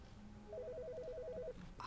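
A telephone in The Stanley Parable gives a faint, quick warbling electronic ring, a single trilling burst about a second long after a short low tone, distant and alone.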